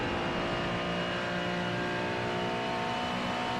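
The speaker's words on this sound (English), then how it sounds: "See, this is, I believe, a McLaren out here right now. See him going up through the gears here on the long straightaway." A McLaren race car in iRacing climbs up through its gears on a long straight at Road Atlanta, a steady, loud engine drone whose pitch rises throughout.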